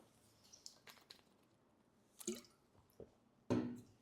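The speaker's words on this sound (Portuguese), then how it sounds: "se der pra tirar esse glu-glu da água" Quiet wet gulps and squishy drips of someone drinking water, a few soft isolated sounds with one louder gulp near the end, close and alone without talk.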